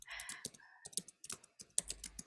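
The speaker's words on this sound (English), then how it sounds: "And someone is typing fiercely." Fast, fierce typing on a computer keyboard, a dense run of sharp key clicks with brief pauses, close and fairly quiet, with no talk.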